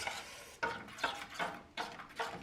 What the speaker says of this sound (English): Stirring, because chocolate burns very, very fast, so you don't want it to stick to your pot.